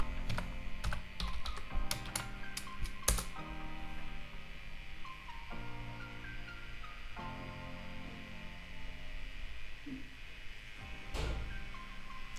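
Keys tapped on a Mac computer keyboard while a password is entered, a steady run of close, light clicks and taps with a few sharper strokes, no talking.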